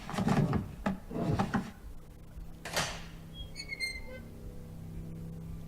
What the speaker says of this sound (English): So that opened a door for me.